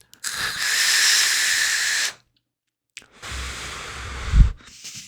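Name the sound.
vapor from Innokin Coolfire PZPulse vape at 69 watts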